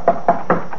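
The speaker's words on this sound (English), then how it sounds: "A knock like that, it's not the knock of a friend." Three firm knocks on a door in a 1950s radio drama, evenly spaced and close, followed by a fainter fourth rap, with no voices over them.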